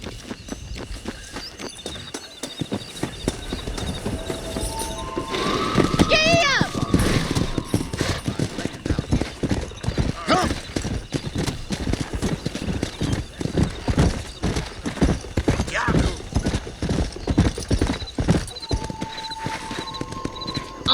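Horse hooves clip-clop and gallop in Red Dead Redemption, a steady rhythmic pounding close up with whinnies, under game music and voices, with gunfire mixed in.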